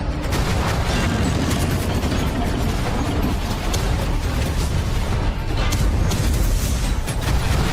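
Tanks roll across a battlefield in a Warhammer 30K Horus Heresy game: a dense, continuous mechanical rumble with clanking and muffled booms, loud and steady throughout, with no voices.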